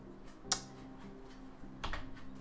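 A computer keyboard key pressed once during Rising World building gameplay, a single sharp near click, followed later by a softer second tap over a low steady background hum.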